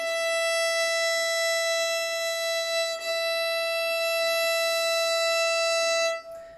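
A single long, steady note bowed on a violin's E string, sustained evenly for about six seconds with a rich, bright tone and a brief bow change midway before it stops abruptly.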